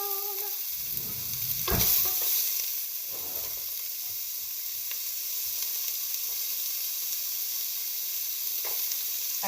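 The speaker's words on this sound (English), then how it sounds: "take a half of a medium onion and cut it up, throw it in the pan that's already heating up, and get it brown" Chopped half onion frying in a hot pan, a loud burst of sizzle as it hits the oil, then a steady close hiss with scattered light stirring taps.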